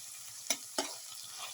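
Egg added to vegetables cooking in a pan with cumin and winter melon, a soft continuous sizzle broken by two quick sharp scrapes close together, no talking.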